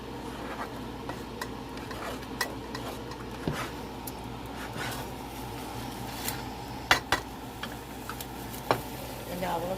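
A spoon scrapes and clinks steadily against a pan while smothered pork chop gravy is stirred, with a soft sizzle underneath and occasional sharper metal knocks.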